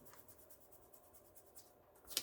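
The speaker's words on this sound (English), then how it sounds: "So I'm erasing these extra legs." A pencil drawing of a female figure being erased with an eraser, giving soft, steady rubbing strokes in a quiet room, ending with a brief louder scrape.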